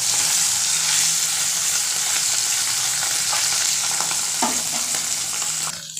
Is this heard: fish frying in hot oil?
yes